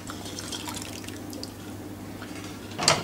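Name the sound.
fish stock being poured into simmering pinto bean curry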